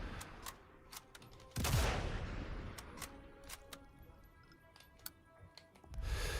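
A single sniper rifle shot in the Sniper Elite Resistance video game, a sharp loud crack with a rumbling tail, amid faint scattered clicks, followed later by another muffled boom.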